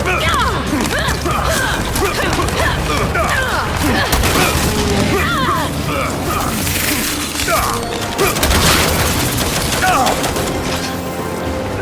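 Sustained gunfire in Gears 5 aimed at a large creature, with dense rapid shots mixed with crashes and booms in a loud chaotic combat scene, with voices shouting underneath.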